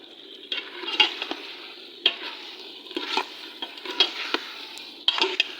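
Potato, fenugreek and carrot bhurji with coriander, ginger and green chili is stir-fried in a pan, with a steady sizzle and repeated scraping strokes of a spoon against the metal, close and continuous.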